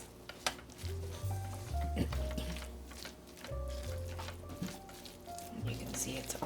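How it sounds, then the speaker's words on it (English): Cheese, cream and browned butter stirred together in a pan for a keto mac and cheese casserole, with a soft sizzle and scraping strokes under steady background music. "I'm just going to stir this together, and our cheese and our cream and our browned butter are going to melt"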